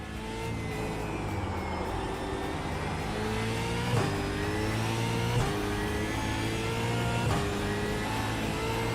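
An Australian V8 supercar engine in a racing game revs and climbs through the gears, with repeated shifts and surges, loud and steady throughout with no voices.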